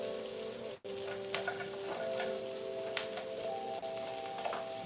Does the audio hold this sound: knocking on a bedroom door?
no